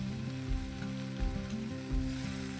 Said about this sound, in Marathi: ते घालून थोडंसं परतून घेणार आहोत